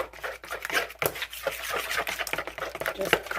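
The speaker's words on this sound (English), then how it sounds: "And I'm going to mix that in" Chicken pasta casserole ingredients being mixed in a bowl, giving a steady run of close, wet scraping and clacking strokes with no talking.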